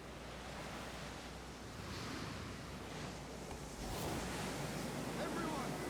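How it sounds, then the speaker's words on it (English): Stormy wind and crashing sea waves in Final Fantasy XIV, a steady broadband roar that swells louder toward the end, with faint voices mixed in. "Everyone, land where you can! We must wait out the storm!"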